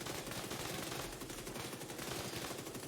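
Rapid SMG fire in a video game, a dense continuous burst of shots rattling loudly and evenly throughout with no pauses.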